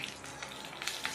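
Onions frying in a pan with turmeric and salt give off a soft, steady sizzle with faint crackles and light stirring scrapes, close and continuous.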